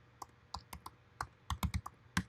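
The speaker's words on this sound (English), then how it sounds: "there I'm typing one of the keywords" Typing on a computer keyboard: about a dozen sharp key clicks in an irregular rhythm, close and fairly quiet, with brief pauses between bursts and no voices.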